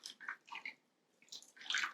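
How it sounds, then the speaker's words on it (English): Spiced apple cider is poured over and around apples in a baking dish in short, quiet splashing bursts with a brief pause, trickling liquid close by. "we're going to pour this spiced apple cider on and around these apples"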